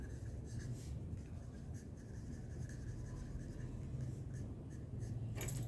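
Steady scratchy strokes of writing on a board during a maths lesson, continuous rubbing texture close by with slight variation in pace, no talking over it.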